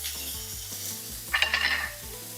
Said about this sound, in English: I like to place my ground beef in a really hot steaming pan.